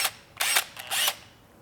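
A small Makita cordless drill revving in two short bursts, whirring loudly for a fraction of a second each time with brief pauses in between.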